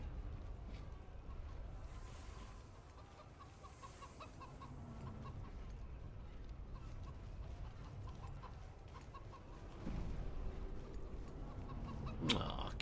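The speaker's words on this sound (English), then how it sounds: "Aw, cute chicken." A chicken clucks softly and repeatedly in the fantasy video game Hunted: The Demon's Forge, set against a steady ambient game background with a brief sharper sound near the end.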